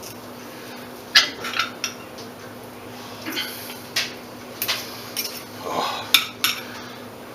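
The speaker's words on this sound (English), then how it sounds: "I'm using a serrated knife" Serrated knife sawing through grilled dinner on a plate, with scattered scraping and clinking strokes against dishware, moderately close, with a brief spoken word.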